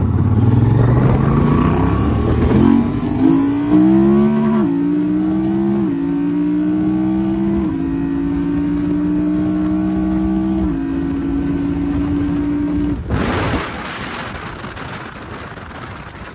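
Yamaha TDM900 motorcycle pulling away from first gear and climbing through the gears, its engine note rising in steps as the quick shifter snaps each change, loud and steady, ending with a sudden cut near the close.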